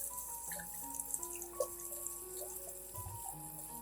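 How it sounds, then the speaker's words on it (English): Tap water running into a sink while fresh coriander is washed to clear dirt from the roots, a soft continuous faucet stream with light splashes and drips, no voices. "First, wash the coriander, removing all the dirt stuck to the roots."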